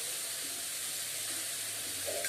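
Mashed boiled potato going into a hot frying pan, giving a steady broadband sizzle and hiss that stays even throughout, close and moderately loud.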